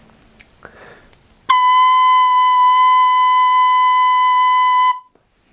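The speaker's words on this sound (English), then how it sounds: "And B is played using just one finger on top, and it sounds like this here." An Irish tin whistle sounds the note B with one finger covering the top hole, a pure steady tone held for about three and a half seconds after a few quiet handling noises, then stopping abruptly.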